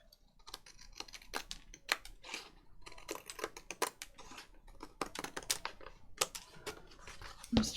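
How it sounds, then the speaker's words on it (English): Scissors cut junk journal pages to a template, giving a series of crisp, close snips and paper rustles in an irregular rhythm in a quiet room. "let's cut off all the bits that we don't need"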